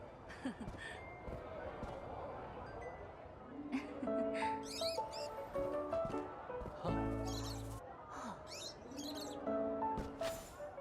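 Birds in the Infinity Nikki video game chirp in short bright tweets and clusters of high notes, mixed with soft game music tones and a speaking voice running underneath throughout.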